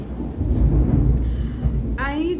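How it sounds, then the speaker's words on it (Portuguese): A heavy thunder rumble rolls on low and loud for a couple of seconds, then a brief voice cuts in near the end over the fading storm. "Olha, trovejando."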